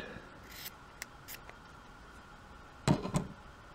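A few crisp snips of scissors cutting material for a miniature dollhouse mop, isolated short strokes with a louder pair of cuts near the end, close by and alone.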